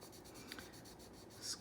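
Soft, steady scratching of a 6B pencil's side shading across paper, a quiet continuous rasp with a few light ticks, close and alone.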